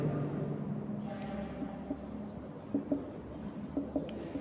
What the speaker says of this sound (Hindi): सही लिख देता हूँ